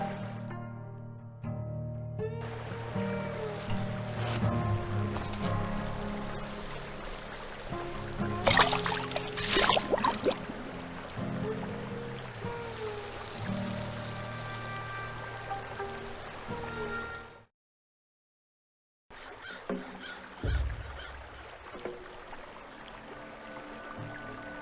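Gentle flowing water and ambient game sounds of floating down a brook in the point-and-click adventure The Night of the Rabbit, steady throughout with a brief drop to silence near the end before the scene resumes.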